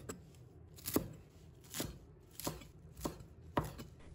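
A knife chops a bunch of fresh coriander on a cutting board, about six evenly spaced crisp thuds against the board, close and moderately loud with no talking.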